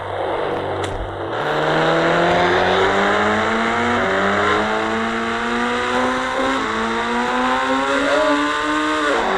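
A car in the Indian Bike Driving 3D game starts up and accelerates, its engine note climbing and dropping through several gear shifts, loud and continuous with no talking.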